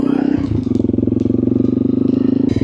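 A Honda CRF 300L motorcycle pulling away on a ride through Iceland's Westfjords: a loud, close single-cylinder engine with a steady rapid thumping pulse and some clatter at the start.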